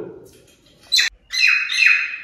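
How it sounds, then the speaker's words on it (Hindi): Birds nesting in a chimney section of a house in Jaipur give sharp squawks and a sustained shrill chirping call, loud and close, after a brief bit of talk. "इस चिमनी वाले सेक्शन में ना चिड़ियाँ आके रहने लग गई है"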